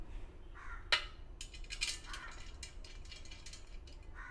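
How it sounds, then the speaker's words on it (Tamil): Screws being tightened while a square metal stand is assembled: quiet metallic ratcheting clicks and a sharp tap, close but faint, with no talking. "ஜஸ்ட்டு நீங்கள் 2 ஸ்க்ரூ எடுத்து டைட் பண்ண வேண்டியது தான்."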